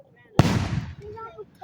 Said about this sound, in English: we're all liking the fireworks